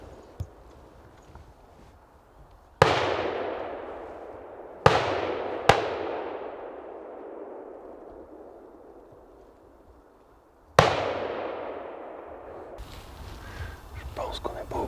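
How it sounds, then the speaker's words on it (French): Loud hunting rifle shots ring out during a hunt in Poland: four sharp cracks, each with a long decaying echo tail, unevenly spaced over several seconds, with quiet outdoor ambience between them and some rustling near the end. "Il y a dû avoir au moins 10 coups de carabine"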